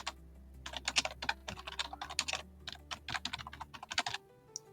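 Rapid, uneven clatter of keys on a computer keyboard, close and fairly quiet, typing a short name in quick bursts with brief pauses.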